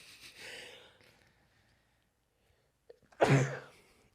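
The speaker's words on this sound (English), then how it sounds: "I'm gonna sneeze again" A single sneeze erupts suddenly after a quiet stretch, sharp and close, with a brief breathy intake and softer snort-like breathing earlier on.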